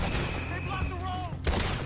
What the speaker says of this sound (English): Shots.